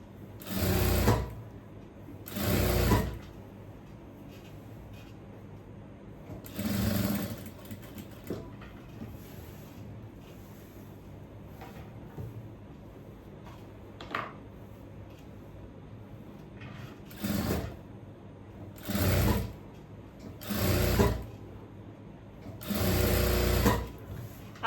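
A domestic sewing machine stitches an A-line kurti with a pleated front and V collar in bursts, several rapid whirring runs of a few seconds each separated by pauses and faint handling sounds.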